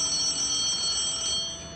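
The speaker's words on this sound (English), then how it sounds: "the bullpen phone just rang" The bullpen telephone at Globe Life Park in Arlington, Texas, home of the Texas Rangers, rings with a sustained electronic tonal trill, steady and fairly loud before tapering off, with no talk.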